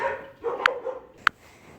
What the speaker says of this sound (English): The dog's kind of freaked out over the mail lady.